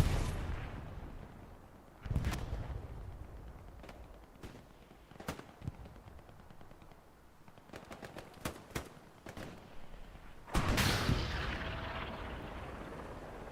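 Rocket and artillery fire in the video game Hell Let Loose, on the Foy West Bend map: a series of sharp blasts and cracks spread across the scene, with two heavier impacts near the start and end and a cluster of quicker shots between.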